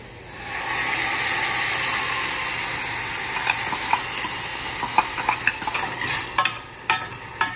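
Tomato puree hits a hot pan over high flame with a loud, broad hiss that settles into steady sizzling. Spoon strokes then scrape and tap against the pan in increasingly frequent clicks.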